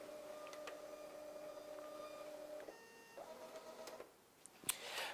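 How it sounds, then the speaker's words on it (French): A voting machine prints a ballot, its faint steady mechanical whir running unbroken with short pauses and a small click near the end, quiet and close with no talk. "directement, le bulletin va s'imprimer"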